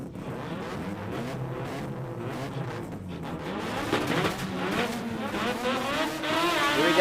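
All-motor sports compact drag cars launch at an Australian drag racing meet: loud, raspy engines climb through rapid wavering revs, growing louder and rising in pitch over several seconds with no talk over them.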